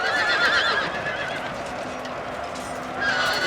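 Horses of mounted horse archers in a Total War battle, with shrill neighing and whinnying over a dense clatter of hooves and battle din, loud and continuous.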